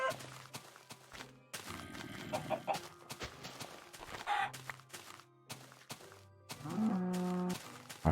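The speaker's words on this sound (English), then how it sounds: "They're chicken." Chickens clucking in the video game Minecraft, short clucks and squawks scattered among game sounds and faint footsteps, quiet overall with a louder burst near the end.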